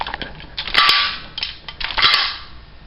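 Two sharp cracks from an airsoft pistol firing with blowback, spaced about a second apart, each a crisp snapping pop with a short mechanical clack.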